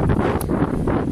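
Strong wind buffets the microphone outdoors in continuous loud rumbling gusts, with no speech.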